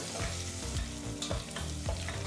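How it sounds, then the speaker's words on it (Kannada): Chopped onion and curry leaves frying over medium flame in a pan, a continuous close sizzle broken by regular scraping stirs every half second or so. "ಕಟ್ ಮಾಡಿದಂಥ 1 ಈರುಳ್ಳಿನ ಹಾಕಿ, ಈರುಳ್ಳಿ ಜೊತೆಗೇ ಸ್ವಲ್ಪ ಕರಿಬೇವಿನ ಸೊಪ್ಪನ್ನು ಹಾಕಿ ಸರಿಸುಮಾರು 3ರಿಂದ 4 ನಿಮಿಷ ಮೀಡಿಯಂ ಫ್ಲೇಮ್ನಲ್ಲೇ ಈ ಈರುಳ್ಳಿನೆಲ್ಲ ಫ್ರೈ ಮಾಡ್ಕೋಬೇಕಾಗತ್ತೆ"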